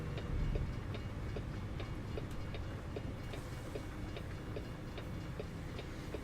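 A train rumbles past in American Truck Simulator, a steady low roll with faint rhythmic clicks over the rails, quiet and continuous throughout.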